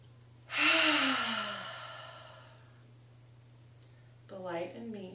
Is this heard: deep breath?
yes